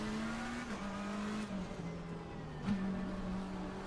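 Race cars in a racing video game roar past in a constant engine drone, with the pitch shifting as gears change and a brief sharper spike near the end, heard fairly loud with no talk.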